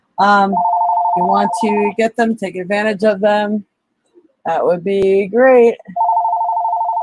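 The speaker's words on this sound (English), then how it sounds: "sorry about the phone ringing in the background." A telephone rings in the background in repeated steady electronic tones, sounding at the start and again at the end, while a person keeps talking over it and between the rings.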